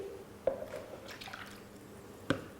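Milk poured into cake batter while mixing wet ingredients, heard as two soft, brief splashy drips about two seconds apart in a quiet kitchen, with faint liquid movement in between and no voices.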